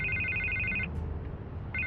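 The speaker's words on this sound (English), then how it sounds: "I can't get the phone to stop ringing." An old-style telephone bell rings in Batman: The Telltale Series, two loud rings separated by a pause, with a low rumbling background score underneath and no voices.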